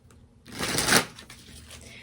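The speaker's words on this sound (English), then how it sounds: "Okay, so then let's pull some tarot cards." Tarot cards being shuffled and pulled, with one loud, close riff of card flutter that swells for about half a second and then gives way to softer handling rustles.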